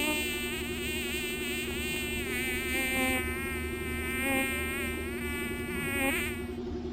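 A steady, close insect drone from a bee buzzing indoors, continuous for the whole stretch, with the pitch wavering as it moves about the room.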